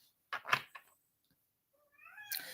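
A cat named Cosmo lets out a couple of short meows close by, then after a pause a longer rising, drawn-out meow with a final higher cry, heard alone in a quiet room.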